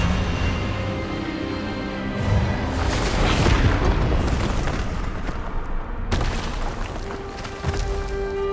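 A spell clashes in the Hogwarts Legacy video game: continuous heavy magical blasts and booming bursts with rumbling, rising to a dense swell midway, then a sharp crack and further bursts under a layered game soundtrack.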